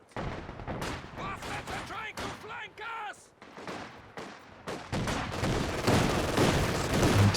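Machine gun fire and other gunfire in a World War II real-time strategy match with conscript infantry, repeated rattling bursts mixed with explosions and battle noise, with a commentator talking over the action throughout.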